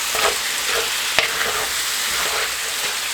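Ground beef frying in a pan until brown for copycat Taco Bell hot tacos, a loud close sizzle with a few stirring scrapes and one sharp utensil knock.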